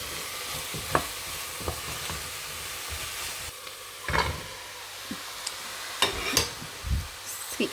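Celery, turnip and sweet potato soften in a pan with a soft, constant sizzle, broken by intermittent scrapes and clacks of stirring, close but fairly quiet, no one talking.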